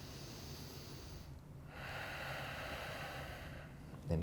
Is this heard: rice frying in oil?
no